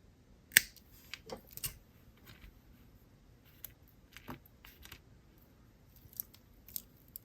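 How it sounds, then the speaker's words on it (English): Scissors snip off the excess bead cord just above a knot on a spring bracelet, a sharp close click followed by a few quieter snips and small handling sounds. "And now I'm going to cut off the excess, but I'm not going to cut too close to the knot."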